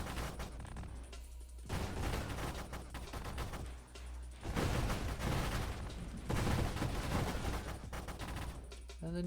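Rapid gunfire rattles through a Minecraft-style video game in long, dense bursts separated by short gaps, loud and close, with some game sounds between volleys.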